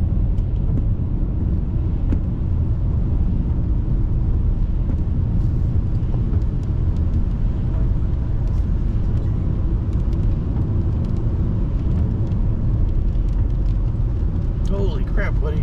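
A car drives a forest road through Mark Twain National Forest: a steady, loud interior rumble of engine and tyres runs throughout without a break.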